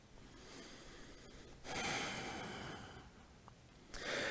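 Close, airy breaths during a short vinyasa yoga flow while settling on all fours: a soft sustained inhale-exhale, a brief pause, then another breath starting, with no talking over it.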